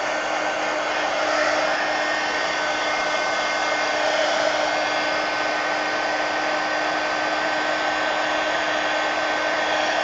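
Close and continuous, a hair dryer blows with an unbroken whooshing whine as paint dries on a mixed media page, keeping a constant level throughout with no voices.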